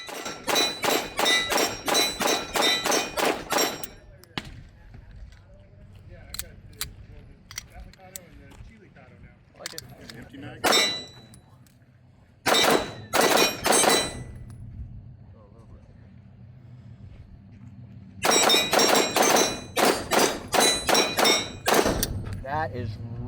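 Bul Armory Tac Comp pistol firing on a shooting range: rapid strings of sharp, loud shots at the start and end, with a few scattered single shots in between.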